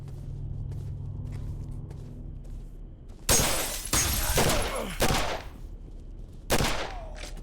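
Gunfire in the game Condemned: Criminal Origins, several loud sharp shots in quick succession following a quieter stretch of footsteps and low ambience.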